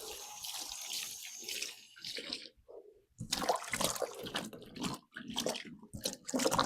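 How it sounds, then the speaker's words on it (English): Tomatoes get rinsed under a running kitchen tap, water splashing and hissing loud and close in uneven bursts, with a brief quiet gap as the flow shifts. "Going to give them a quick wash."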